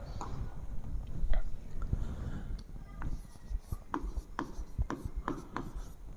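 Pen or pencil scratching across paper while a voltage and current graph is drawn by hand, with soft rubbing strokes and sharper taps in an irregular rhythm, quiet and close, no talking.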